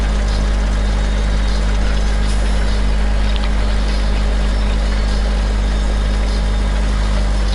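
A powerful, fairly fast tractor idles loud and close, a steady low diesel rumble running without a break and with no voices over it.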